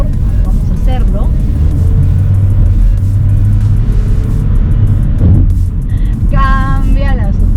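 A Geely Okavango hybrid three-row SUV accelerates in Sport mode, its engine a steady loud rumble that builds under road noise while someone talks over it throughout.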